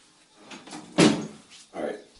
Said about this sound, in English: Shut that door.